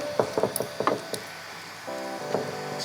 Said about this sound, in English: We're going to take our 9mm socket and wrench and put it right over top of the hot end